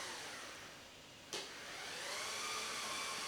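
A Maslow CNC machine moves after calibration, giving a steady broadband whirring drone with a short sharp click partway through and a pitch that slowly shifts as the motors run.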